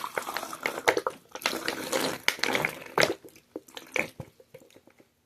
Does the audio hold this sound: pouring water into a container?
yes